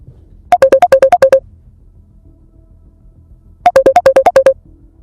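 A phone ringtone for an incoming call plays two loud, close bursts of rapid, evenly spaced electronic beeps, each about a second long, separated by a pause of roughly two seconds.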